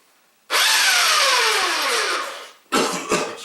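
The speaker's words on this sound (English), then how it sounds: "Well, this has a belt of sandpaper on it that goes around and around and around" A belt sander running across a rough piece of wood, starting abruptly with a loud high whine and grinding hiss, easing off after about two seconds, then kicking back in for a short second burst, close and loud.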